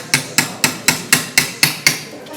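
A utility hammer strikes metal being shaped into a crest, ringing in ten steady, evenly spaced blows, close and loud with nothing else audible.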